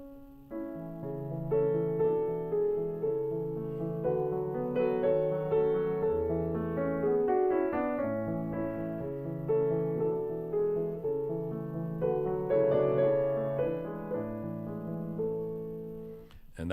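Solo piano plays the slow-movement theme of a Schubert sonata, a lyrical melody over sustained chords, steady and moderately loud throughout with no voices.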